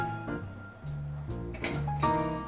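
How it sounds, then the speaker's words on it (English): A bar spoon stirs a whiskey cocktail over ice in a glass, producing a run of bright, ringing clinks and rattles of ice against glass, spaced irregularly and growing slightly busier toward the end. "the trick to stirring is you wanna run the spoon around the outside of the glass"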